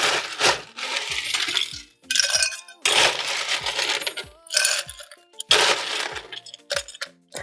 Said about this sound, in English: we're going to start with our Collins glass and then we're going to fill it up with ice